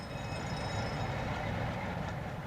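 A Freightliner container train running from Harwich to Manchester at 75 miles an hour makes a steady, dense rumble of wagons and rails, close and continuous, with a faint high squeal riding on top.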